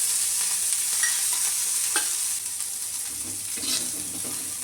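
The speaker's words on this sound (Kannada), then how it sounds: "ಇದಕ್ಕೆ ಎಣ್ಣೆ ಹಾಕಿ ಕ್ಲೀನಾಗಿ ಹುರಿರಿ." Steady sizzle of ingredients frying in hot oil in a pan, with occasional scraping and clinking as they are stirred, close and continuous without talk.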